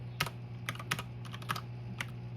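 Keys tapped one at a time on a Magegee MK STAR 75 mechanical keyboard, giving about seven crisp, close clicks at an uneven pace over a low steady hum, with no talking.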